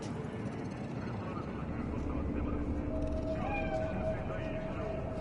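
Stray cat in the city streets of the video game Cyberpunk 2077, a short faint meow rising near the end over a steady ambient hum of the game world.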